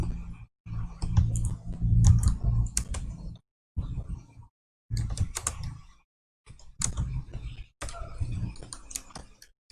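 Bursts of typing on a computer keyboard, rapid clustered key clicks separated by brief pauses, close and clear with no talking.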